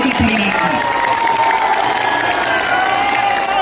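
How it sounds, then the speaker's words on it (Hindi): A huge crowd cheers and shouts without pause at a night political rally in Ichagarh, Jharkhand, with dense, loud roaring that stays steady throughout and distant whistles or horns rising through the din. "रात को जो भीड़ आप देख रहे हैं"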